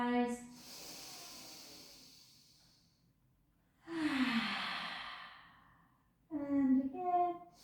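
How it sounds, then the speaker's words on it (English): A deep breath in and out during a supine spine stretch in a pilates class: a long soft airy exhale, then a fuller breath and a voiced sigh, close and unhurried. "Take a beautiful breath in"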